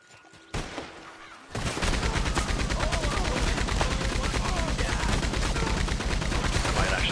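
Rapid gunfire in Red Dead Online rattles in dense, continuous bursts after a short lead-in, loud and close, layered with heavy shots and game effects.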